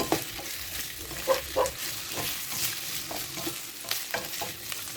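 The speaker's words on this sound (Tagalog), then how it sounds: "I-saute natin hanggang mag-brown yung patatas at carrots." Potatoes and carrots sautéing in oil in a pan, with a steady soft sizzle and occasional stirring clatter and scrapes, close by with no talking.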